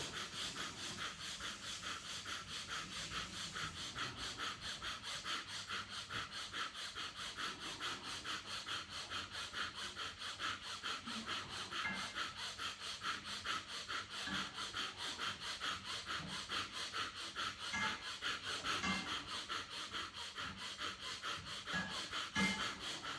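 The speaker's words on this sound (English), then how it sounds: "So first one is called Bhastrika Pranayam." Rapid, forceful Bhastrika pranayama breaths pumped in and out through the nostrils at a steady fast rhythm during a yoga breathwork session, a continuous rough sniffing and huffing close to the microphone with no talking.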